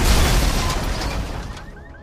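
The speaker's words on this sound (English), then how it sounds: "The cars do explode." A car in a video game explodes after being shot enough to catch fire, a broad roaring blast that fills the moment and slowly fades, with thin high crackles trailing at the end.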